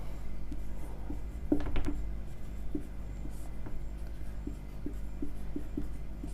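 Chalk or marker strokes from a teacher writing on a board during a Hindi grammar lesson, a quick burst of scratchy strokes followed by sparse taps, steady and close over a low room hum.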